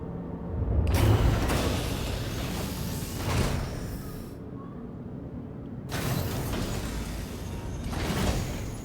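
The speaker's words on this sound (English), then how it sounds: "Oh, elevator" A lift moving through the corridors of the Ironclad, a ship in a video game, gives a steady low mechanical hum with two louder whooshing surges, like doors or the car starting and stopping, and no talk.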